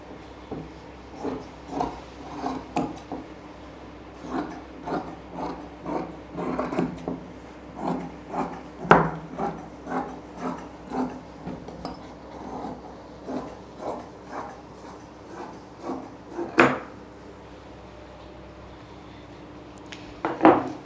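Scissors cut salwar suit fabric along marked lines in a steady series of short snips and crunches, with a few louder clacks in between.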